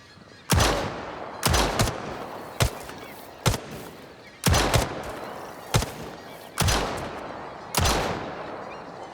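Gunfire in the video game Lost Rift: about a dozen loud, punchy shots in an uneven rhythm, each with a short decaying tail, close and with no talk.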